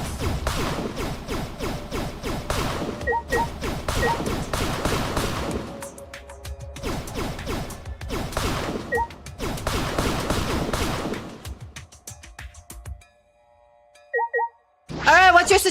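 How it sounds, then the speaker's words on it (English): Rapid bursts of repeated smacks and crashes from chairs being slapped and smashed in Danganronpa V3 pile up loud and dense with game effects, then thin out into sparse chimes near the end. "Please hold while I slap some chairs"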